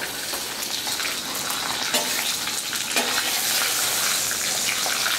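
Clam chowder being stirred in a pot on a Blackstone griddle top: a continuous wet, bubbling hiss with soft scraping swirls, close and steady throughout, with no voices.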